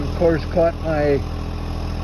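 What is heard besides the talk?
tractor engine running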